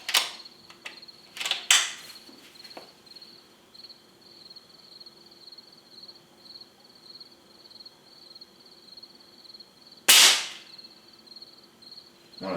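An air rifle fires a few sharp cracks, one near the start, another soon after and a louder one about ten seconds later. Between the shots, insects chirp steadily at a high pitch and there are faint clicks.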